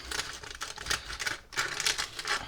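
A knife cuts through a raspberry and almond cake, giving a close, soft series of rapid crackly scraping strokes with a short pause in the middle.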